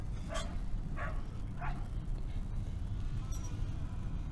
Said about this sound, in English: There's this yappy dog out here